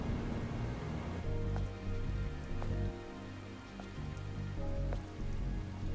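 Steady rainfall in the video game Stellar Blade, a constant close patter over a low rumbling game ambience, with occasional faint chimes and tones, no talking.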